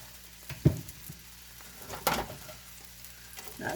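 Ham and picante sauce sizzle in a frying pan for a breakfast omelet, a quiet steady fry with a couple of sharper clatters and bursts as the food goes in.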